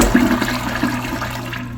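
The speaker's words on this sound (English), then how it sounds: "On a press and release flush, the bow rinse is just way too short and barely applied" A Kohler Cimarron Class 6 toilet flushes after a press-and-release of the handle, a loud, close rush of water into the bowl that stays steady and alone.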